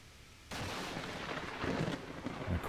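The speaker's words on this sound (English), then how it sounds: "And of course there's a storm coming in." A deep rumble of thunder rolls in from an approaching storm in the game Vintage Story, starting abruptly and swelling in low booms, with no talk over it.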